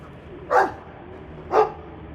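A Mabari war dog in Dragon Age 2 gives two short, separate barks about a second apart, clear and close over a quiet ambient hum.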